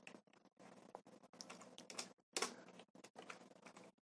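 Quick, irregular bursts of keystrokes clatter on a computer keyboard while HTML is typed, with short pauses between words, close and quiet.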